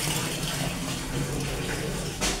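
Water gushing steadily into a washing machine tub, a loud continuous rushing fill that stays even throughout, with a brief splashy surge at the very end.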